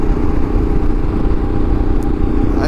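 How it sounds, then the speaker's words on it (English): A 1200 cc motorcycle accelerates in sport mode on a Route 66 highway ride, its engine a steady, loud, close rumble mixed with rushing wind noise for the whole stretch. "In sport mode the bike really comes to life. It becomes very torquey."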